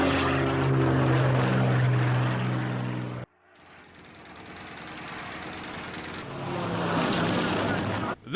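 Hawker Hurricane fighter's propeller engine in War Thunder, a loud droning roar that cuts out abruptly, returns more distant and thinner, then swells loud again near the end, with no talking.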